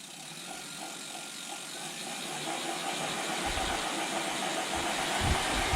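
A motorized wheel lifted off the ground spins up under power from a thumb throttle, a mechanical whirring and ratcheting hum that grows gradually louder and rougher over several seconds, close by with no talk.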